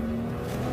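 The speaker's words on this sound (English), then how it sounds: "We're driving around the track now at a relatively modest speed" A car rolls around a track at modest speed, its engine a steady, smooth hum with no sharp revving, close and even throughout a short stretch.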